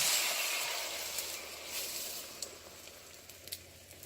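Eggs poured into a hot pot for scrambling for a curry egg breakfast, giving a steady close sizzle that slowly fades, with a few small pops and crackles toward the end.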